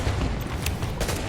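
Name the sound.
sniper rifle shots in The Division video game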